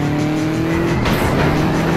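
Loud rally car engine from the video game Dirt 2, revving hard with a sharp tire squeal partway through, close and continuous with no talk.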